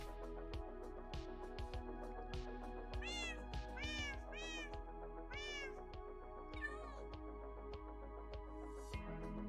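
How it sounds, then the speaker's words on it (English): Several cats meow repeatedly in rising, wavering calls over a steady low hum and soft clicking game sounds, with a few yowls spaced through the stretch. "All the cats want attention."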